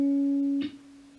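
A single plucked guitar note on the 6th fret of the G string rings clearly and sustains, then is cut short by a soft muted touch, leaving a faint lingering tone.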